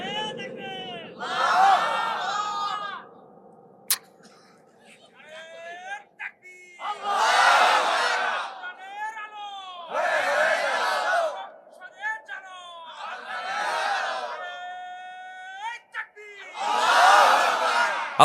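A large crowd at a Bangla Islamic waz sermon shouts a slogan in loud rhythmic bursts, each chant swelling and fading with pauses between, voices in unison with scattered whoops.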